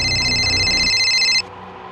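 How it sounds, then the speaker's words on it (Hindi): A telephone rings with a bright electronic trill, loud and close, then cuts off abruptly partway through, leaving quiet background. "खबरी नदीम का फोन है सर"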